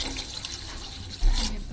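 Water poured into a pan of simmering lentils over a low-medium flame, a steady watery wash that swells into a brief louder splash near the end.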